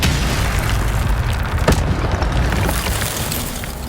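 A fiery Incendio spell blast in the Hogwarts Legacy video game, a loud dense roaring burst with a sharp crack near the middle, sustained throughout with no talk.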